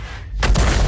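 A tank cannon fires in World of Tanks as a single heavy blast that starts abruptly and then rumbles on loud and broad through the rest of the moment, with no voices.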